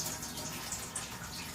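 Old gasoline left in a lawn mower over winter draining out in a steady, close pouring stream, a continuous splashing trickle with no talk.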